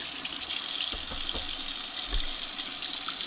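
Lantern parts from a 1960s Unimet lantern being washed with soap or degreaser under running water, a steady close faucet stream filling a sink with a few splashes and clatters of parts, no voices.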